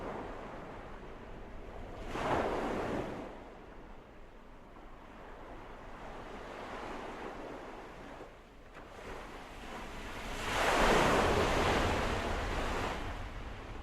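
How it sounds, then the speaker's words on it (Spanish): Surf of the Tyrrhenian Sea off the coast of Lazio in central Italy, broad washing swells that rise and fall in two larger surges, with wind noise on the microphone and no voices. "A poniente, las aguas del mar, el Tirreno."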